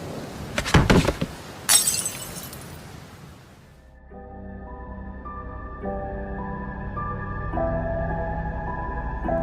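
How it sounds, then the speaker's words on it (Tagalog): A glass smashes with two sharp, bright shattering crashes close by in the first two seconds, followed by a sustained tonal musical drone with no voices. "Sumasabay pa rin sa utak ni Michael yung lagapak ng baso"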